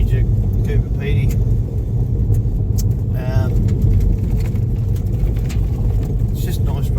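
A car drives along a rocky outback road in countryside near Coober Pedy, its steady low road and engine rumble running continuously under people's conversation.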